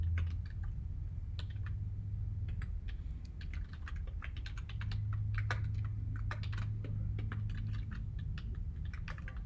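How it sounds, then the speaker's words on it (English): Rapid, uneven clicking of keys on a computer keyboard as a sign-up form is filled in, close and crisp, with short bursts and pauses over a low steady hum. "We're going to type in facebook.com into the search bar"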